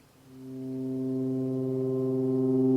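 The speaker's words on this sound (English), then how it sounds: "So this is me just playing a C on the MIDI keyboard." A single sustained synthesizer C note played on a MIDI keyboard through a Volca Modular swells in and holds steady, a rich buzzy tone with layered harmonics and no other sounds.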